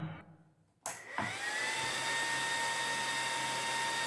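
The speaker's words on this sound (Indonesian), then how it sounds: "Kipas sudah menyala." A homemade vacuum-style laptop cooling pad's high-speed fan clicks on after a brief hush and spins up into a steady, close, whining whoosh that holds evenly to the end.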